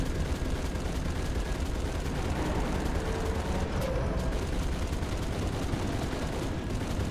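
Gunfire in Halo 3 aimed at a hard-to-destroy object: dense, continuous rapid shooting at a steady, loud level throughout, with no talk.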